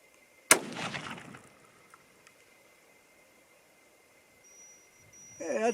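A single sharp, loud rifle shot from a .22-250 Remington or .243 Winchester varmint rifle cracks out early, its echo decaying over about a second, followed by near silence and a faint rustle at the end.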